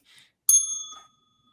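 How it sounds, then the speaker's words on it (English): A hand bell is struck once, giving a bright ringing ding that fades away over about half a second, close and clear, after a brief faint rustle. "I just wanted to hit the bell."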